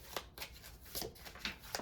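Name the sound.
shuffling tarot cards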